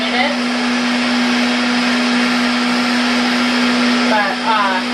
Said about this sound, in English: But this takes about a minute with my food processor.